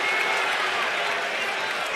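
A baseball stadium crowd at a Yankees–Orioles game keeps up a steady roar of cheering and scattered applause, a dense wash of noise with a voice talking over it.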